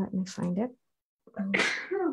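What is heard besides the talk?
sneeze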